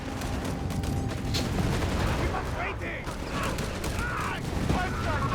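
Tank fire and volleys of gunfire ring out in the Company of Heroes 3 video game, a dense, continuous battle clatter of shots and booms under a commentator's voice.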